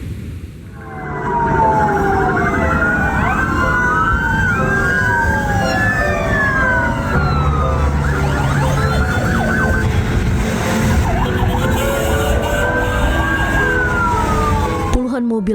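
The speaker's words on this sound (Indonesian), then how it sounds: "mobil ambulans mengiringi jenazah relawan gempa NTT Ahmad Zaki Ali" A loud ambulance siren wails continuously in an Indonesian funeral procession, its pitch sweeping up and down, with traffic rumbling underneath and more sirens overlapping nearby.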